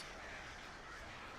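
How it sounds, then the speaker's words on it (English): Crows cawing in the Alan Wake video game, a dense, steady wash of harsh calls filling the whole moment at a low, distant-sounding level. "Oh no, the birds."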